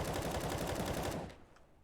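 Rapid automatic rifle fire in Counter-Strike on the Overpass map, spraying through a wall in one loud, fast burst of shots that stops abruptly, followed by a brief quiet tail.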